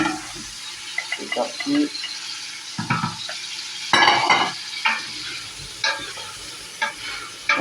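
Sausages browning in oil in a pan for a Réunion rougail saucisse, with soft sizzling and intermittent stirring and scraping clatter, while a voice speaks briefly.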